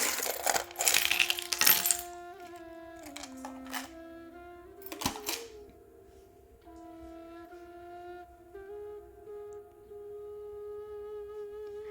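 Small donut and coffee bean charms tumbling out of a box during a charm reading: a brief clatter of light clinks at the start, then a few isolated taps over soft, sustained background music.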